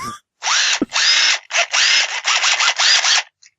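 A power drill runs in several loud bursts of a few seconds each, close up, with brief pauses and pitch dips between them, alone with no talk.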